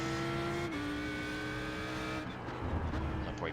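An Audi R8 LMS race car engine roars at high revs at Donington Park, loud and close, with a gear change and the pitch dropping and shifting as it drives on amid track noise.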